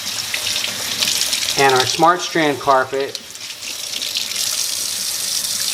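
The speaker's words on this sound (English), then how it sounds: "we're just gonna start pouring the water right over it" Plain tap water from a sink pours steadily onto a SmartStrand carpet sample in a stain-resistance test, a close continuous rushing splash under a man's brief speech.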